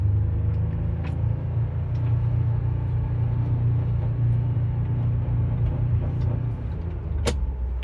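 A 2022 Ford Bronco Badlands Sasquatch with the lux package rumbles along from inside the cabin, steady low engine drone with subtle shifts in pitch as gears change, a few faint clicks and a brief sharp rattle near the end.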